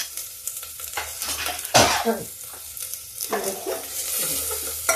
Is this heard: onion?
yes